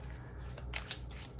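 A card drawn from a deck of healing cards, a brief papery shuffle and slide of card stock close up, with a couple of soft rustling swishes in a quiet room.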